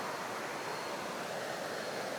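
A river flows past a campsite at night, a steady, dense rushing wash of water with no breaks, moderately quiet and unaccompanied by voices.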